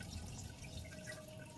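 Water trickles slowly through a small tube into a home aquarium bedded with river sand, a soft, steady, faint dripping and running with no voices.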